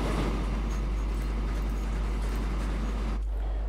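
A train in the railway simulation Transport Fever 2 gives a steady, even rumble with a constant low hum throughout, near and continuous, with no talk.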